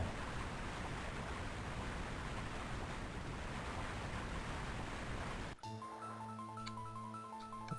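Steady broadband roar of rushing water from a video game waterfall, loud and continuous, cutting off abruptly near the end as game music with a steady tone and stepping melody takes over.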